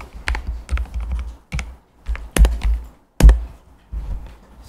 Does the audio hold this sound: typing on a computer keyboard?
yes